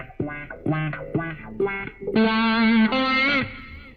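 Electric guitar through a Wah-100 pedal effect on a Zoom G5n multi-effects unit, Strat World preset, plays short plucked notes and chords whose tone sweeps with a vocal wah, ending in sustained bright chords; loud, close, no talk.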